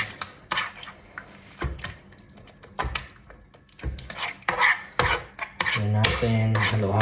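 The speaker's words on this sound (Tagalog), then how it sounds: "Halo-halo lang. Hanggang sa maluto." A yema tart mixture with condensed milk is stirred in a pan, giving scraping and rubbing strokes of a utensil in an irregular rhythm, close and moderately loud, with a brief voice near the end.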